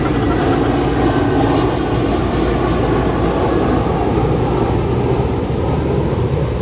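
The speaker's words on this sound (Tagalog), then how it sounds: "Ang daming eroplano talagang dumadaan dito" Airplane flying low overhead, a loud continuous broadband engine roar that holds steady throughout without breaks, dominating the scene with no voices.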